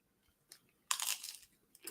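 A crunchy taco is bitten and chewed close up, with a few faint crackles and then a sharp crunching burst that fades into softer chewing, with no talking.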